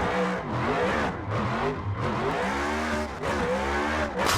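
Drift car engine in the racing game Assetto Corsa, steady high revving with pitch rising and falling through shifts and tire noise underneath, continuous and loud, no talking.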